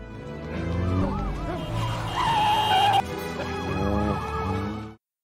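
Film scene of a car chasing a running man: loud, continuous engine roar with tire squeals and a wailing siren-like tone, rising and falling, close and dense, ending abruptly.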